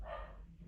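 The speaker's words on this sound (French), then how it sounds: "Il y avait mon chien qui a aboyé parce que ma grande, elle est rentrée à la maison." A pet dog barks at home as a family member comes in, a short muffled bark or two heard faintly from another room.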